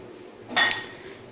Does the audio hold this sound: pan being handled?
yes